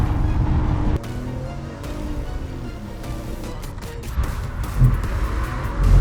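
A car runs its first laps on the Vaison race circuit, engine droning at close range with shifting revs and a brief tire-squeal flare near the end, no talk over it.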